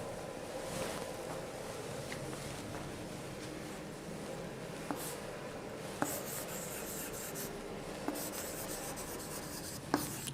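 Marker or chalk scratching continuously across a classroom board as a teacher writes an example, with faint rubbing strokes and occasional sharp taps, under a steady background hiss.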